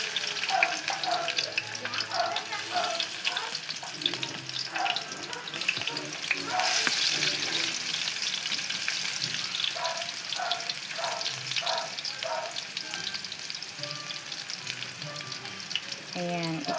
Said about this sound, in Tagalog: Ipa-golden brown natin yung bawang natin para mas masarap, mas mabango ang lasa.